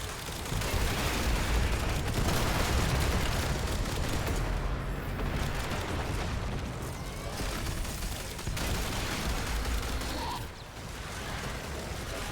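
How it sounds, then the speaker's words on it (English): Mortar fire in the PC video game Warframe, a dense barrage of booming blasts and rattling gunfire that keeps up without letup, with brief lulls, at moderate level. "I've only got a few mortars left. Firing them all."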